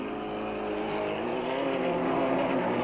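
Super Truck racing trucks from the 1997 Super Series roar past on track, a steady, loud engine drone holding at high revs and slowly swelling, with no talk.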